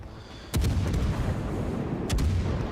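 Naval guns firing shells in a warship battle game, two heavy booming discharges about one and a half seconds apart, each trailing into a low rumbling roar, with no talking.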